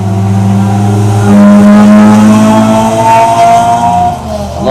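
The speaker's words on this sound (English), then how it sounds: "I love those small cars with them little interesting little muffler systems" Small car with a loud aftermarket muffler exhaust passing by, a strong throaty engine drone that swells loud, holds for several seconds, then drops off as it moves away, with no talk.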